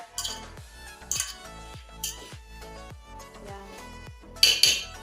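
A spoon scrapes and clinks against a cooking pot while pre-boiled maize and potatoes are stirred for mukimo. Distinct metallic knocks come roughly once a second, with a louder clatter near the end and no talking.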